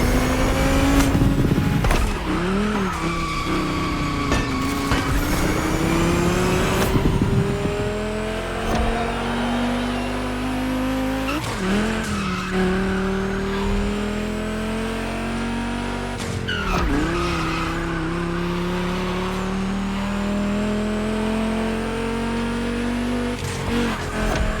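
Volkswagen race cars screaming around a track at a gymkhana-style event, engines revving loudly with pitch rising and falling through gear changes, tires skidding and squealing, continuous and close throughout.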